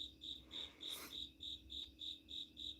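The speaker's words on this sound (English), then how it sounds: "I'm sure you guys can hear that fucking cricket" Cricket chirping at night, a clear, regular series of short high trills spaced about a quarter second apart, close and steady, with a brief soft rustle partway through.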